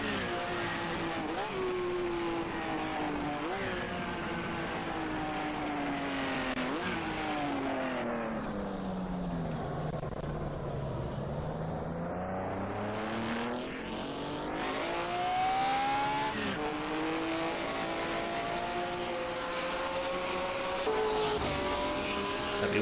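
A 1950s Grand Prix race car engine in a racing game, revving continuously through the gears at Rouen-Les-Essarts, its pitch sweeping down and climbing again as it brakes and accelerates, loud and steady throughout.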